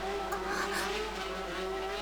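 Motorbike engines of a biker gang rev and roar in a steady, loud, sustained drone with a high whining tone, set in a quiet area at night in the visual novel G-senjou no Maou.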